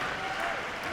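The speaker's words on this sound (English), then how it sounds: "And listen to the crowd." Basketball crowd at a college game between Merced and Fresno City cheering for Tyler Morgan, a steady, dense roar of applause and shouting filling the arena for the whole second.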